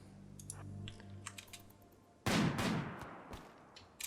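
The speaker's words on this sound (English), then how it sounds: "Now who's he shooting at?" Gunfire breaks out in the video game Rimworld, a sudden loud burst of shots followed by a few scattered cracks, set against light clicking and a soft low hum.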